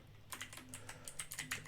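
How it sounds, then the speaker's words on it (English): Quick, close clicking of computer keyboard keys while coding in Python in Colab, a fast irregular run of soft taps with no voices. "I am just typing directly."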